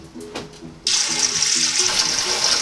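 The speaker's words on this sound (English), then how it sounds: "We filled our pot full of water and added some salt." A strong stream of tap water pours into a cooking pot, switching on abruptly after a quiet start and then rushing loudly and steadily to the end.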